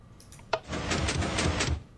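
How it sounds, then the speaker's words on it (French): A Minecraft door swings shut on a redstone signal: one sharp click, then a steady mechanical whir of about a second, close and clear, with no one talking. "ça va fermer la porte"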